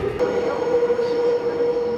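A subway train runs with a steady low rumble and a sustained metallic whine, close and fairly loud throughout, with a brief click near the start.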